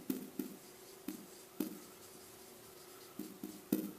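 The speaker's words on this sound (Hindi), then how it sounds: "तो सबसे पहले अगर हम यहाँ पे लिखेंगे" Sharp tapping of a marker or chalk on a classroom board, intermittent quick strokes and taps, faint and close, with no talking.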